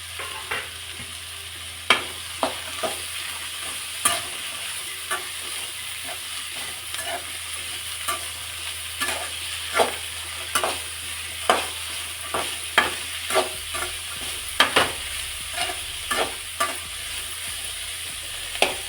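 Chopped cluster beans stirring and frying with onion in a hot pan, a steady sizzle broken by regular scraping stir strokes about once a second, close and clear with no talking.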